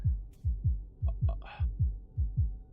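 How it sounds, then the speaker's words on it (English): Steady, heavy heartbeat thumps from the survival horror game Tormented Souls, low and booming in a regular lub-dub rhythm of about nine beats, with a few faint clicks and a brief soft rustle on top. "now we can get rid of that incessant heartbeat noise"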